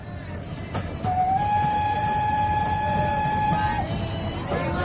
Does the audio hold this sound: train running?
yes